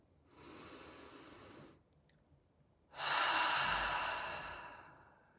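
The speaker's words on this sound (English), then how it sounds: "Take a deep breath at your own pace, breathing in through the nose and out through the mouth" Two slow, close breaths: a soft, steady inhale through the nose, a pause, then a louder, longer exhale through the mouth that fades out gradually.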